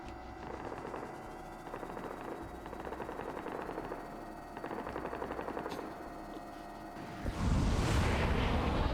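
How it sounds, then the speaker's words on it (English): Rapid automatic gunfire in a Stargate-themed military operation in a video game, sustained bursts of rattling shots with a heavy explosive roar swelling near the end. "he's firing on his own"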